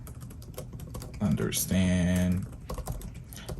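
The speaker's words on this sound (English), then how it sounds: "Sorry if I'm typing incorrect words" A computer keyboard clatters with quick, close keystrokes, and a voice talks over the typing partway through.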